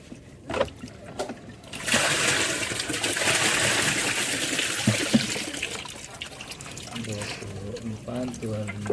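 Water is poured out during a catfish harvest in a bucket-farming setup, a rushing, splashing flow that swells for several seconds and then tapers off while a person talks nearby.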